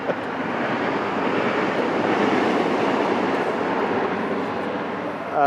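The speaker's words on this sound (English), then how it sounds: "if that was an Amtrak train" An Amtrak passenger train rumbles past outside with a steady, sustained roar and faint rail clatter, moderately loud and continuous throughout.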